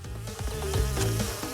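Bees swarm from a beehive in Crash Bandicoot N. Sane Trilogy with a steady, close insect buzz layered over bouncy game music and sound effects, with no pauses.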